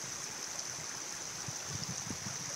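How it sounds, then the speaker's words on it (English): A typical alpine stream on the descent to Gruben rushes and trickles steadily, a continuous soft hiss of flowing water with faint gurgles, fairly quiet and alone. "On the way down to Gruben, typical alpine stream"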